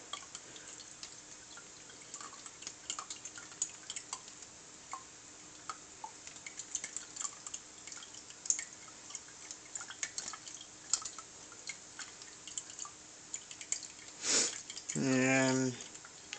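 Kava liquid drips steadily as it is strained through a cloth, small soft irregular drops, with a voice talking alongside and a brief louder splash of pouring near the end.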